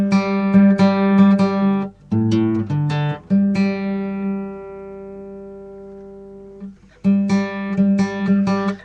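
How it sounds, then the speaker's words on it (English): An acoustic guitar is tuned by plucking the D string at the fifth fret against the open G string, with repeated paired plucks, a long ringing sustain while a tuning peg is adjusted, then further clear plucks, close and alone. "So you go to your D string, fret on the 5th fret, and that G needs to sound the same as you fretting on the 5th fret."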